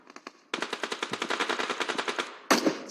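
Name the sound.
DBS shotgun gunfire in PUBG Mobile video game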